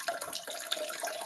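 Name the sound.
running water in a video call participant's background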